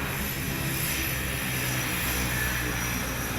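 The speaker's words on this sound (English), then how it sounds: "The Seventh-day Adventist plane travels the local towns and villages where it is very hard to reach" A Seventh-day Adventist aviation service plane flying to remote towns and villages, with a steady, loud engine drone and broad whooshing hum that stays even throughout, as if heard from inside or close by.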